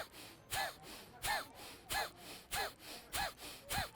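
Seven rhythmic, forceful breaths in quick succession during a belly breathing exercise, each a short sharp huff at an even pace, close and clear with no talking.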